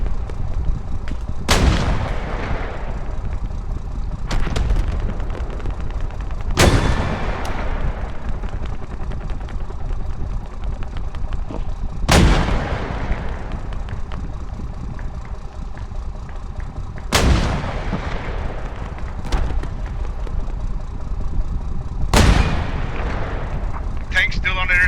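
Mortar rounds in a video game boom out in a series of about six heavy, evenly spaced blasts, each with a long rumbling tail over a constant battlefield din.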